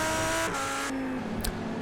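Race cars in a Hungary round of a sim racing league, engines droning steadily at high revs as another car is passed, the tone shifting between gears, with a brief sharper burst near the end.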